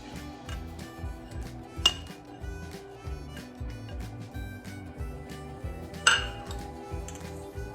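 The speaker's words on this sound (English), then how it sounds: "we're gonna put everything in one bowl and mix it." Dry baking ingredients, flour, baking soda, baking powder, salt and cinnamon, are stirred in a bowl, with soft repetitive scraping and faint clinks of a utensil against the bowl, plus a couple of sharper knocks.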